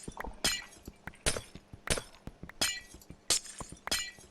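Glowstone blocks breaking in Minecraft, a rapid run of crisp glassy shattering bursts, evenly spaced about every half second, loud and close with no talk.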